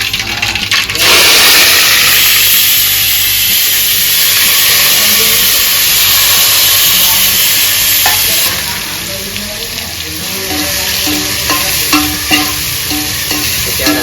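Whole spices, curry leaves, tomato, onion, chili, ginger and garlic tempering in hot oil for a gravy, a loud continuous sizzle and hiss with occasional stirring scrapes, steady for the full length.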